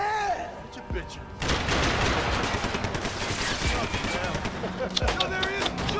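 Gunfire in the video game Max Payne 3: a dense burst of rapid automatic shots and heavy impacts that starts abruptly and continues loud and sustained, with voices shouting over it.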